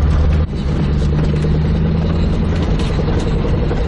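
A Ford Maverick V8 engine runs steadily near idle, a loud, deep, continuous rumble with a slight dip at the start, close to the listener and with no voices.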